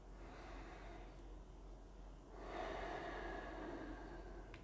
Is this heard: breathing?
yes